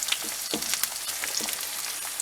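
An egg fries in a pan inside an RV, giving a close, steady crackling sizzle with small pops throughout, no voices.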